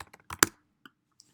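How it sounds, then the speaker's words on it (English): A MacBook trackpad or mouse is clicked, giving a sharp close tap with a few lighter clicks around it in a quiet room. "I can do a control click"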